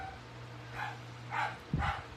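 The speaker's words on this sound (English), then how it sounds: "I don't know what my doggy is barking at." A pet dog barks indoors at home, three separate woofs spaced about half a second apart, fairly faint and somewhat distant, the last one slightly deeper and fuller, over a quiet room with a low steady hum.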